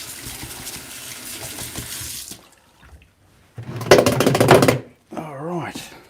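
Paintbrush swished and rinsed in a water container during acrylic painting, with splashy watery bursts that stop and start again, close up, and a voice speaking at the end.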